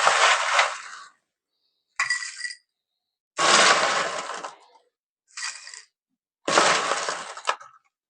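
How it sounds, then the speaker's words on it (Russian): Crushed ice tumbles into a cocktail glass for a caipirinha in five separate bursts, each a bright crunchy clatter of cubes against glass with short silent gaps between. "Далее наполняем наш бокал дробленым льдом"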